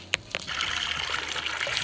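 Water pours steadily from a village spring spout, a close continuous splashing gush after a couple of brief knocks at the start.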